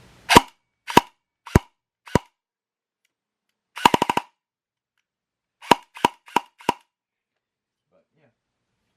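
A VFC H&K 416 CQB airsoft rifle fires sharp, close bursts on full auto: short groups of rapid clacking shots separated by pauses, loud against near silence.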